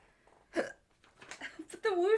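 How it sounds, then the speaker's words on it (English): A person hiccups amid casual conversation, with short, sharp vocal bursts breaking up nearby talk and laughter at close range. "You got the hiccups."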